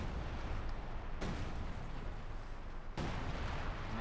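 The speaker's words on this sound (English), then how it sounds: "calling in the artillery, but he's going to get wiped" Artillery shells pounding in Company of Heroes 2, two heavy booming impacts over a dense, continuous rumble of battle noise, with no talk.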